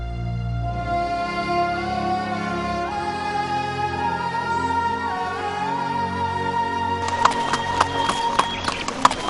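Horse hooves clip-clop in steady rhythm beneath a swelling orchestral score, moderately close, with a few sharper hoof strikes toward the end; no one speaks.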